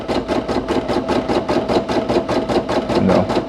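A Brother PE800 embroidery machine stitches a satin stitch while making a patch, a steady rapid mechanical chatter with regular pulsing beats, close and continuous throughout.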